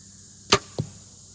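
Broadhead-tipped arrow shot from a bow, a sharp snap of the release followed a quarter second later by a duller thud of impact, close and alone in a quiet setting.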